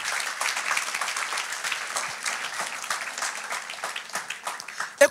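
A church congregation at a French-language worship service bursts into sustained, lively applause, with many hands clapping steadily throughout and a few voices mixed in.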